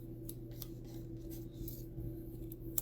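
Scissors snip through paper for scrapbooking, several quick, separate cuts in an uneven rhythm over a low steady room hum, close and fairly quiet.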